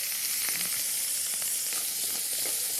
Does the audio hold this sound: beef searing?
yes